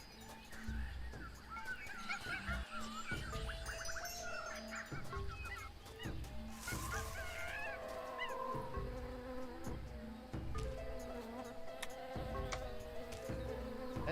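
Jungle ambience in the video game Tales of Monkey Island: dense buzzing insects, honking bird calls and scattered chirps layered over a low continuous bed, steady and busy throughout.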